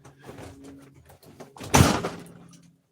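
A house door pushed shut against outside noise, with some faint rustling and handling sounds followed by one firm thud of the closing door that quickly dies away.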